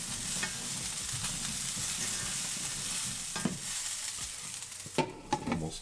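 Steak sizzles on a grill in a steady, hissing fry that runs the whole time, broken near the end by a few sharp pops and clatters of handling.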